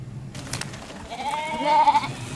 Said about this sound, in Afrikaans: Die skape is haastig vir beter weiding.